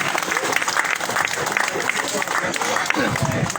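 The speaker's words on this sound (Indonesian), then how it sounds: "mari kita berikan aplaus dulu untuk ibu kita yang satu" Dense, steady applause from a crowd at an outdoor Indonesian political campaign rally, loud and continuous throughout with a few scattered shouts mixed in.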